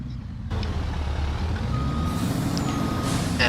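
A truck reverses in Farming Simulator 25, a steady engine rumble under repeating reversing beeps and an air-brake hiss, loud and continuous throughout.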